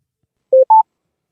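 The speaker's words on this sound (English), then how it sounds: "Oh, we got a phone call." Two short telephone dialing tones sound in quick succession before a call connects, clean and clear against silence, the second slightly higher than the first.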